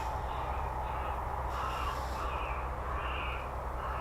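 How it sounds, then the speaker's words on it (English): Recorded crow-like distress calls blare from a bird scarer across the airfield at RAF Coningsby, a steady harsh cawing that carries over constant low wind and background rumble, with no talking. "So that's the bird scarer. A pre-recorded scaring."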